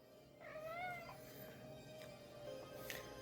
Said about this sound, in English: That is Starla, my kitten.